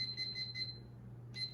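A kitchen timer alarm beeps in quick pulsing bursts, pauses, then starts again, close by with a faint background hum and no talk.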